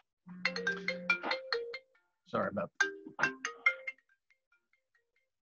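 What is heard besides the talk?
mobile phone ringtone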